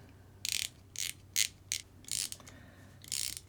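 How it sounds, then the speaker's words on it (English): Screws are driven into plastic RC10 CC parts in six short bursts of ratcheting, whirring driver noise separated by brief pauses, close and fairly quiet. "just slow down screwing them in"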